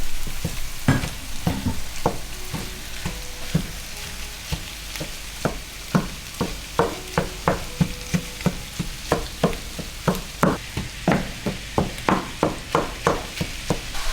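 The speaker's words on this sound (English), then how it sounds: "Now I add some ground pork" Ground pork sizzling and frying in a pan with garlic, a steady crackle broken by repeated sharp scrapes and stirs of a utensil against the pan, close and clear with no talking.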